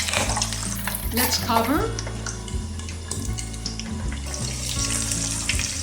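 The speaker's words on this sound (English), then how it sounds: "add 2 cups of oil to deep fry the pork belly" Pork belly for crispy lechon kawali sizzles and crackles loudly in deep hot oil, with a lid clattering and brief talk over the frying.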